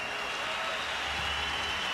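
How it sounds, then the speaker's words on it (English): A boxing arena crowd claps steadily for two fighters after their bout, a dense and even wash of applause that fills the whole moment, heard from within the audience. "let's give these two warriors a great big round of applause"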